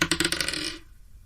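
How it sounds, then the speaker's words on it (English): Red dice tumbling on a tabletop during a tabletop roleplaying game, a rapid burst of bright clattering bounces that quickly settles and fades, close and fairly loud with no talking. "Come on, red dice."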